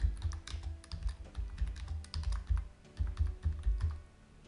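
Fingers type a filter name in Revit on a computer keyboard, a quick uneven run of close, crisp key clicks with brief pauses between bursts.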